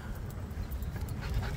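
Dogs pant steadily and close up after a walk, cooling off in warm weather with a quick, breathy rhythm that runs throughout.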